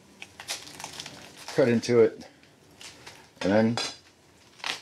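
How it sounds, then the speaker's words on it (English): Knife cuts the core out of a halved cabbage in a home kitchen, giving crunchy crinkling cuts and a couple of louder bursts under brief talk. "I start by cutting it in half and removing the core"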